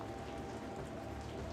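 Steady rain pours down in a town at night, water streaming off roof edges into muddy street puddles, a dense continuous patter with no pauses and no voices.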